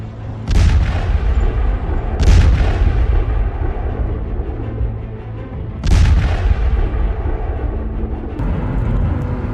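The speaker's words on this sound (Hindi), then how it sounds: "डोनेस्क क्षेत्र के सोल्वियांस्क में रूसी गाइडेड एरियल बमों ने जबरदस्त धमाके किए" Three heavy booming blasts from Russian guided aerial bombs in Sloviansk, Donetsk region, strike at uneven intervals, each a sharp crack followed by a rumbling tail, over a steady low background rumble.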